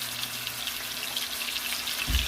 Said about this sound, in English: Kind of like just searing it for a little bit. I'm going to let it cook on each side.